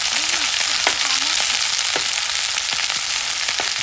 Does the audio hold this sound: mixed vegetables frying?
yes